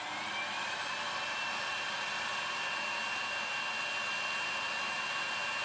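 A motorised electric nail file whirs steadily at a constant pitch throughout, a continuous buzzing drone at moderate volume with no pauses.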